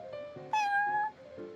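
Prince, a cat in Genshin Impact's card game at the Cat's Tail tavern, gives a single clear, close meow lasting about half a second over soft background music.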